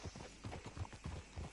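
Horse in Red Dead Redemption 2 moving at a fast walk, an even, muffled clip-clop of hooves, faint and continuous.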